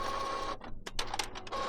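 Epson ET-2850 ink tank printer initializing and drawing ink into its tubes, a steady mechanical whir broken by a short run of clicks and pump strokes before the hum picks up again, close and clear.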